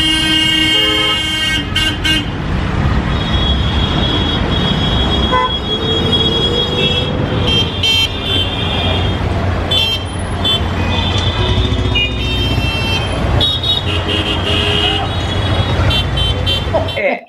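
Chaotic street traffic in India surges with engines and repeated car horn toots, some short and some held, honking near and far throughout, with people talking beneath the din.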